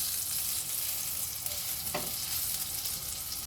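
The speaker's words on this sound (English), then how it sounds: "I'm just quickly going to fry these tomatoes for a short bit of time, for about 2 minutes" Tomatoes fry in a pan, giving a steady, bright sizzle throughout with a brief stir or shift partway through, close and with no voices.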